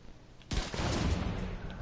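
A single loud, sharp gunshot from a heavy-hitting weapon in a video game, cracking suddenly out of quiet and trailing into a rumbling decay.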